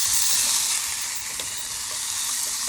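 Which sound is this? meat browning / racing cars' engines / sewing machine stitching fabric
meat browning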